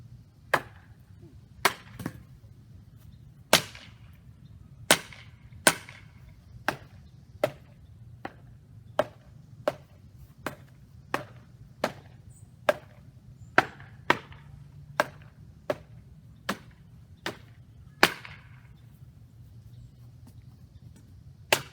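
A towel-wrapped steampunk-style trench club strikes a dummy over and over, about twenty sharp thuds at an uneven but steady pace with short pauses between them, all alone over a low background hum.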